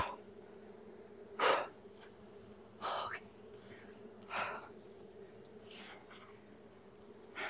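Angry honey bees buzz around an opened hive during a late-spring inspection, a faint, steady hum broken by a few short, sharp rustling bursts spaced a second or two apart, with no talking.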